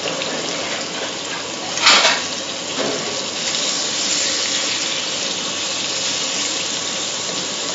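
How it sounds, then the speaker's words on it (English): Lamb rump searing in olive oil in a hot pan, a steady broadband sizzle throughout with a sharp burst of spitting near the start, no talking. "we're going to put a little olive oil in the pan and seal the meat"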